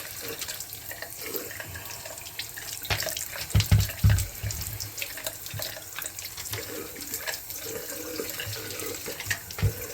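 Water runs steadily from a shower to rinse a jacuzzi filter, a continuous splashing hiss with a few louder thumps and clatters partway through as the filter is handled under the stream.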